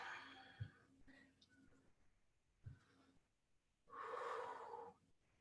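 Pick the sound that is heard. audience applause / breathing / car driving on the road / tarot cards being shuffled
breathing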